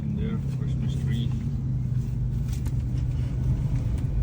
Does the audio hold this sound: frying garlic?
no